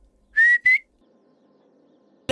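A man gives a two-note whistle at someone, loud and close, with the two bursts rising in pitch, followed by quiet room hum and a short sharp noise at the end.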